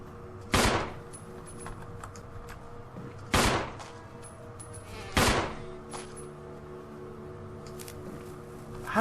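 Resident Evil 1 Remake handgun fires three single, loud shots spaced a couple of seconds apart over a steady low game ambience. No voices are heard.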